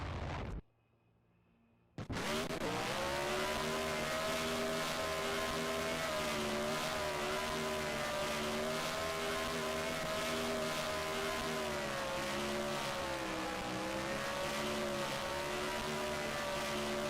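A pickup racing truck doing burnouts at Talladega Superspeedway in a racing video game, its engine holding a loud, steady high-rev drone for about fifteen seconds after a brief drop to near silence at the start.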